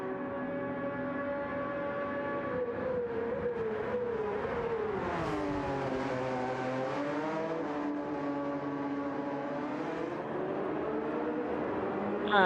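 A Porsche race car in a sim racing game at Spa-Francorchamps, its engine revving steadily and climbing and dipping in pitch through gear changes, loud and close throughout with no talk.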